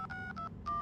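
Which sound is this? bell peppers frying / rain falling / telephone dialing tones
telephone dialing tones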